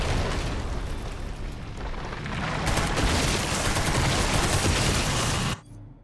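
Dense, sustained burst of machine gun fire in Resident Evil 9, loud and continuous for several seconds before cutting off abruptly.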